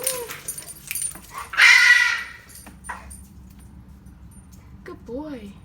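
A dog gives a few short whimpers and yips, close by, while a person talks over it and keys jangle, with a rising whine near the end.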